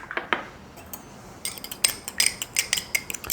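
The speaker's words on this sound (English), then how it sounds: "I'm going to mix this egg up just a little bit" A fork clinks and scrapes against a bowl while beating a single egg before cream cheese is added, producing a quick series of light, close metallic taps that quicken and grow louder partway through.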